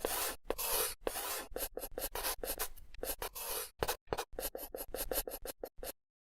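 A pen quickly drawing a brachial plexus diagram on paper, close rapid scratchy strokes in short bursts with brief pauses, ending abruptly in silence.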